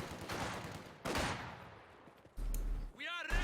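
MG42 machine gun fire in the strategy game Company of Heroes 2, with bursts of battle gunfire and explosive booms and a whistling sweep near the end, amid game sounds.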